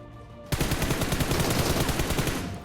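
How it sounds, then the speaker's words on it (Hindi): DP machine gun firing in PUBG, a loud, sustained burst of rapid automatic shots that starts abruptly and rattles on continuously for about two seconds, close and dominant. "फिर अब वो मेरे पे डीपी फायर किया"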